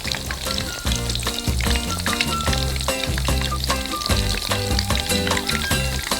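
Soy sauce mixed with plum extract comes to a boil in a pot, a dense continuous bubbling and sizzling hiss that stays loud and steady throughout, with no speech heard.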